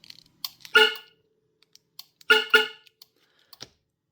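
A Viper 3400V car alarm horn, powered up on a workbench, gives a few short chirps: a clipped blast, then a quieter interval of small clicks, then a paired double chirp, loud and close with no one speaking.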